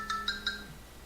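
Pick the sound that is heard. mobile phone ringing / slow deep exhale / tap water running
mobile phone ringing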